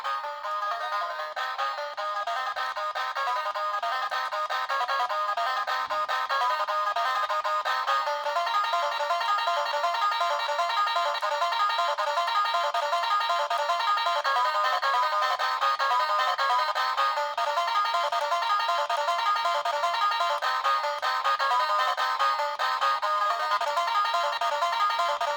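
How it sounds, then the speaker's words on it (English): A tiny Micro Jammers speaker plays a continuous bright, twangy banjo tune with thin, tinny tone and steady level throughout, no voices over it. "Next up, we have the banjo."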